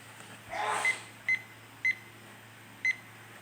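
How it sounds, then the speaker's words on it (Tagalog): A kitchen timer is set for 10 minutes while bread bakes in the oven, giving three short, clear beeps spaced about half a second to a second apart after a brief rustle, fairly close and alone. "So, magta-timer tayo ng 10 minutes."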